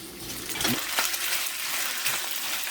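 Tocino fries in a pan with a steady hissing sizzle, punctuated by a few sharp metallic clinks and scrapes of stirring, close and fairly loud.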